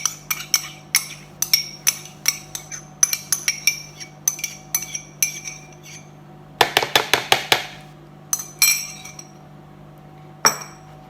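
A flaxseed egg substitute is stirred into vegan keto pizza dough in a bowl, with rapid rhythmic clinks of a utensil against the dish in short bursts, including one fast flurry, and no talking.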